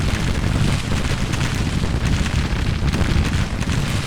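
Massed musket volleys from Civil War infantry in Grand Tactician crackle and rumble as a steady, dense roar, loud and continuous with booming low rumble throughout and no clear gaps.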